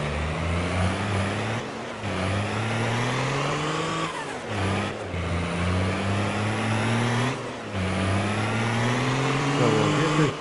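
A truck engine in Farming Simulator 22 drones steadily and loudly, rising in pitch as it accelerates through gears with brief dips at each shift, repeating several times, with no voices.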